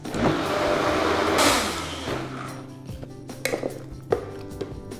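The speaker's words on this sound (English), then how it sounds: "for the chickpeas, the one we cooked with. Blend it again." An electric blender whirs loudly through cooked chickpeas for hummus, the motor running steadily before cutting off, followed by clinks and knocks of kitchen utensils.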